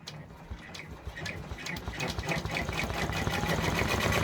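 A multineedle embroidery machine stitches out a freestanding Haunted Village bridge piece, its fast, even mechanical rattle of needle strokes running steadily close by and growing slightly louder, with no voices.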